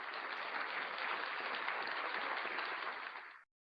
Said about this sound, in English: Let's give Dr. Ayala a virtual applause.